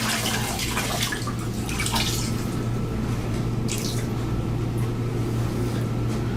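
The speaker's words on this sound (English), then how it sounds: "So I've taken that same sample, it's a little wet still, we just wring it out a little more" A damp fabric sample wrung out by hand, giving soft squishes and drips of water, close but low, over a steady electrical hum that runs throughout.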